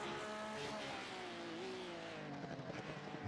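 A Porsche GT3 race car engine roars continuously in iRacing at the Daytona Road Course, its pitch rising and falling with gear changes and throttle, loud and close throughout with no talking.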